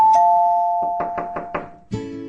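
A series of knocks on a door, five raps spaced fairly evenly after a sustained doorbell-like tone, close and clear, ending as a louder burst of indoor sound begins.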